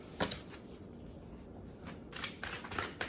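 Oracle cards shuffled by hand during a tarot reading, with soft riffling bursts at the start and a denser run of papery flicks toward the end, fairly quiet and without talk.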